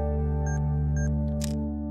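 A Panasonic GH5 camera's shutter fires after a 2-second self-timer, giving a pair of short beeps before a single crisp mechanical click over a steady electronic hum.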